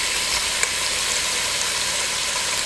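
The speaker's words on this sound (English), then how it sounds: "all we're doing is browning" Beef browning in a Ninja Speedi for stew gives a steady, close sizzle of frying meat that holds evenly throughout, with one small click near the start.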